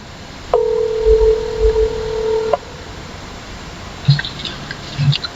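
A phone placing a call to a friend: a single steady two-toned dial or ringback tone lasts about two seconds, followed by a few faint keypad-like beeps and low handling noises, with no talk.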